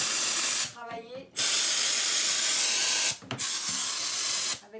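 A Vapodil steam cleaner sprays steam onto a Velux roof window, giving loud continuous hissing bursts broken by two short pauses, with faint voice or handling sounds in the gaps.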